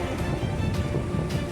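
Floodwater of the Gandak river near the Rewaghat bridge rushes past in a steady, broad roar, with currents colliding into whirlpools; continuous and close, with no pauses or voices.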